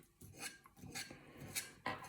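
Knife cutting fried vegetables for a vinaigrette (vinegret) beet salad, a few close scraping, clinking strokes on a board or plate in an irregular rhythm, with no talking.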